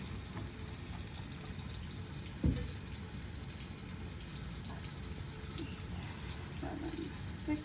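A tap runs steadily into a sink while hands are wetted for washing, a continuous close hiss of flowing water with a brief splash partway through.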